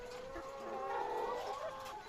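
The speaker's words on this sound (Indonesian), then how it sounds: "Itulah suasana peternakan ayam petelur yang didirikan Polres Pak-Pak Barat, Sumatera Utara di lahan kosong seluas 20 x 6 meter" Laying hens on a small chicken farm of 320 birds cluck and murmur together in a soft, continuous chorus, faint and steady with no voices.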